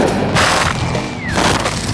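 An F-18's cannon fires shells at about 100 rounds a second during a military pilot training run, heard as two loud, dense bursts of tearing fire separated by a short lull.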